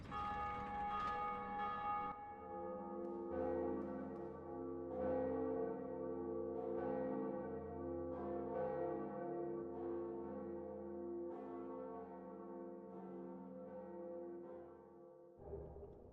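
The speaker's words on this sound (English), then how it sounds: "ring the second Bell of Awakening" The second Bell of Awakening ringing in Dark Souls Remastered, with deep, resonant church-bell strikes repeating at a slow, regular pace, each one lingering in a long humming decay, alone with no talk.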